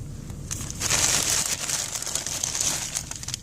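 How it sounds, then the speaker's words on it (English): Paper crinkles and rips close by during the unboxing of a Balloon Boy toy, a steady run of crackling, tearing rustles with no talking. "I ripped the paper."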